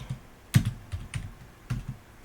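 Keys clack on a computer keyboard in short irregular bursts of a few strokes each, close and fairly quiet, with no talking.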